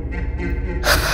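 A woman panting and gasping for breath after jolting upright, a short ragged inhale burst rising sharply at the end, close and alone with no talk.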